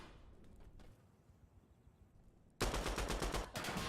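Dense, loud burst of video game gunfire breaks in partway through a competitive esports match of Veritas vs. Tawdlerz, rapid repeated shots following a quieter stretch of faint background noise.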